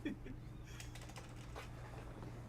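Rapid clicking of a keyboard and mouse during a modded Minecraft server session, picked up faintly over the mics in quick irregular bursts alongside a low steady hum.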